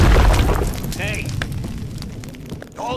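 A loud explosion from the action game Max Payne hits at once with a heavy boom, then a rumbling, crackling tail while faint game sounds continue.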